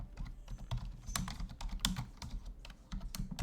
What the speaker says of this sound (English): I see you're typing a lot in there.